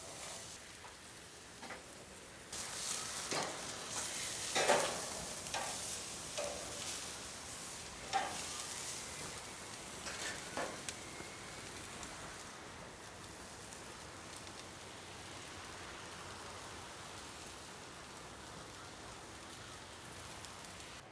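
A Hawaiian T-bone steak sears on a Monument Denali 605 Pro gas grill, giving a soft, steady sizzle with a few brief louder crackles early on. The sound is faint and continuous.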